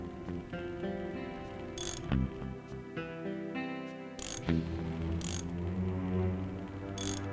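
A wrench clicks and ratchets on a motorbike in the game Full Throttle, bursts of metallic cranking and turning repeating at a steady pace, fairly close, with a few sharper clanks between strokes.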